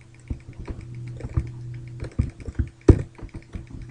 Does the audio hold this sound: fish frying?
no